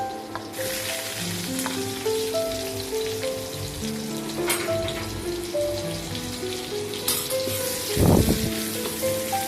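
Garlic and onion sizzle in a hot pan for a Malaysian-style spicy Maggi goreng, a steady fry hiss with faint clinks of utensils and a brief louder burst near the end, no talk.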